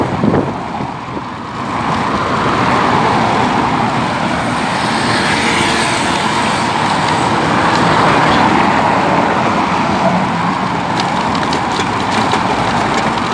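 Steady roar of city car traffic rolling past close beside a bicycle, a loud continuous wash of engine and tyre noise with no breaks, cars passing one after another.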